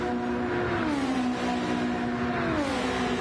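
Race car engines whine at high revs during a sim racing event, Team Lotus car and a drafting rival running close together toward Curva Grande. The loud, steady drone shifts pitch as the cars accelerate, with no talk over it.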